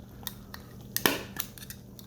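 A foil snack mix pouch from a retro K ration supper is handled and popped open, with sharp crinkles and clicks scattered across a couple of seconds and one louder tearing burst in the middle, close and without talk.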